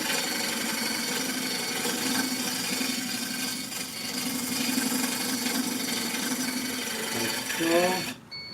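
A lathe tool cutting into a spinning wooden bowl gives a steady, close scraping rasp with a low running hum, continuous for several seconds before stopping abruptly.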